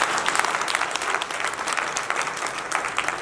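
An audience at a BJP Mahila Morcha meeting claps steadily, a dense, even wash of applause that runs throughout without voices.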